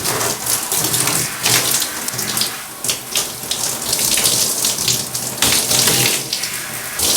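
Steady running water rinses conditioner out of hair, a continuous broadband splashing and hiss that swells and dips as the head moves under the stream, close and fairly loud with no talking.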